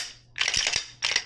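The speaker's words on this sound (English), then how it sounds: "So I put this new mag, locks back." A Glock 17 pistol with a new magazine inserted, its slide locking back with sharp metallic clacks: a couple of close, crisp mechanical impacts in quick succession, then another brief clatter after a short pause.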